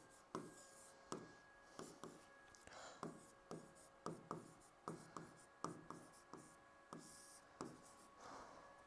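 Hand writing on paper during a Hindi punctuation lesson, a steady run of short scratchy pen strokes and taps, close and fairly quiet, with faint low voice traces in the background.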